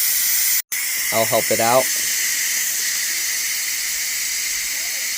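Steam hisses steadily from a steamer just after cooking Royal Asia prawn hacao dim sum, a loud, continuous rushing noise with a brief spoken remark near the start.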